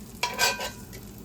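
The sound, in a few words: guanciale frying crispy in a pan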